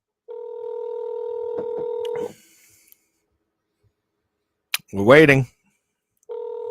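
A phone call placed on speakerphone gives a steady two-tone ringback or dial tone for about two seconds, then silence, a short spoken remark, and the tone returning at the end.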